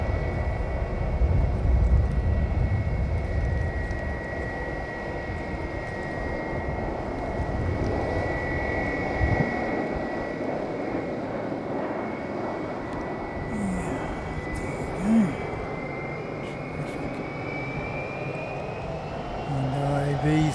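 A Flying Doctor service aircraft taxis toward the runway, its engine a steady, fairly distant drone with a sustained whine that holds for the whole stretch over a constant outdoor rumble.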